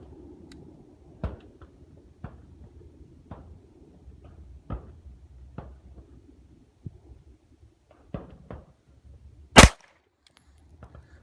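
Dry fire trigger practice on a pistol with an RMR sight produces a series of sharp, isolated clicks spaced a second or so apart, faint under quiet room noise, with one louder snap near the end.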